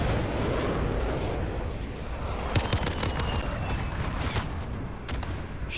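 Gunfire in Call of Duty Modern Warfare online play: dense, loud bursts of shots and impacts over a constant rumbling game soundscape, with sharp cracks clustering near the middle.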